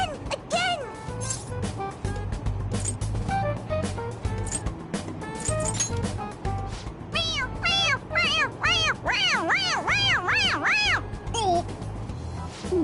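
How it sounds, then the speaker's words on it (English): Squeezable cat toy in Persona 5 Royal giving repeated meows when its head is pressed, a string of rising and falling electronic mews that come faster and closer together toward the end, over game background music. "It meows when you press on its head."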